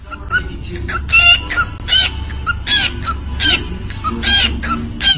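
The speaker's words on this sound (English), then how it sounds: "Beatboxing bird, if you can believe it." A bird making rapid, rhythmic clucking and chirping bursts like beatboxing, loud and close, with repeated sharp clicks and squawks over a low background hum.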